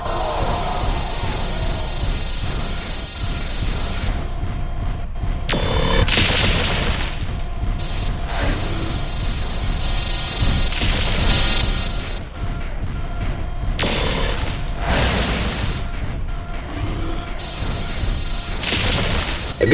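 Repeated heavy booms and crashing blasts as mechs melt down and explode in MechWarrior 4: Mercenaries, layered over continuous mechanical rumble and whirring, loud and sustained throughout with bursts every few seconds.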